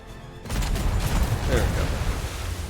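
A burst of heavy cannon fire erupts from a new war galleon's ship guns in the game ATLAS, a loud rumbling barrage of booms after a brief quiet moment, with a voice talking over it.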